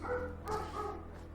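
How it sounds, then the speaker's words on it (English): Large dogs barking in the video game Fallout 4, a few close, gruff barks and yips in quick succession over a steady low game hum. "The dogs are barking and I don't know why"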